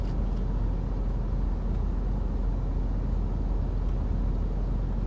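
Dense road traffic in a jam, with a continuous low rumble of idling cars and heavier vehicles, loud and close, with faint clicks over it and no talking.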